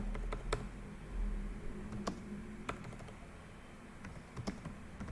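Close typing on a computer keyboard, sparse key clicks tapping out a short search phrase in an irregular rhythm over faint room hum.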